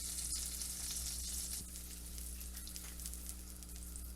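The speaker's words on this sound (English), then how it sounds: "Let's go ahead and put our heavy cream in" Heavy cream hits hot melted oil and butter in a pan, giving a loud, steady, bright sizzle with a brief burst at the start and no voices.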